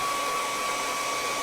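Handheld hair dryer blowing steadily over wet paint on an ocean-scene canvas, a constant close whooshing airflow with a faint whine, no talking.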